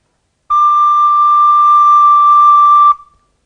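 A recorder sounds a single high D note, held steady and clear for about two and a half seconds, then cut off cleanly, with nothing else around it.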